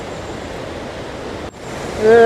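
Water rushes below a small, makeshift wooden bridge in Dumnaga Valley, Neelam Valley, Kashmir, heard as a steady broadband roar with a brief cut near the middle, then growing louder near the end.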